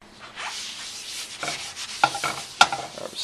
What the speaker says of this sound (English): Spreading the oil in the pan.